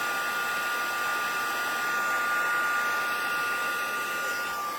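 A heat gun used for stamping and masking craft work blows hot air in a steady, loud, broadband whoosh with a faint whine, running evenly from start to finish with no talking.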